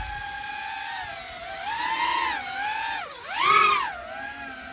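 A small Speedybee25 drone hovers with a high, whining whir from its motors, the pitch rising and falling in smooth sweeps as the throttle changes, loud and close with no voices.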